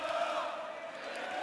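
A darts tournament crowd at a quarter final in Gibraltar, cheering and roaring steadily in a big hall, a distant continuous wall of voices.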